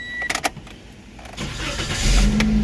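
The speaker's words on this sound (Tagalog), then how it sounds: "So start muna natin yung sasakyan." A car engine cranks with a few sharp starter bursts, then catches and settles into a steady idle, close up and alone.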